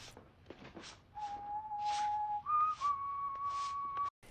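A person whistles a song with long sustained notes, clear and close, against a quiet background.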